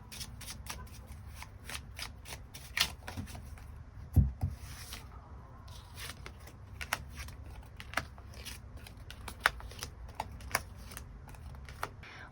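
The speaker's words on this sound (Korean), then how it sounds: "카드 뽑아보도록 하겠습니다." Tarot cards are shuffled by hand in a riffling, flicking run of crisp, close snaps and slides, with a few sharper taps as cards are drawn, and no talking.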